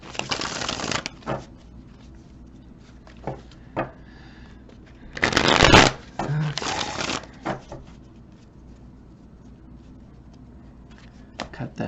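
A tarot card deck, the Magical Forest deck, being shuffled by hand in bursts of riffling and sliding cards, with one loud close shuffle in the middle, quiet pauses between, and faint soft talking.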